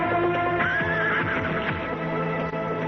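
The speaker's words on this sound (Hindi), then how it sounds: "ये तो बद्रीनाथ जी का घोड़ा है।" A horse whinnies loudly and close, a long shaky neigh, while hoofbeats clatter underneath in a scene from the 1994 series Chandrakanta.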